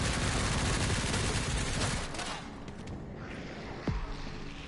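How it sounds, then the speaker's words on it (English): Machine gun fire in the video game Resident Evil Requiem: a dense, continuous roar of rapid shots that fades after a couple of seconds, leaving a noisy backdrop with one sharp impact near the end. "The guy with the machine gun is the one I don't like."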